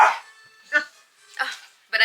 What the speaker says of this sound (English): Bubby, you don't need to bark.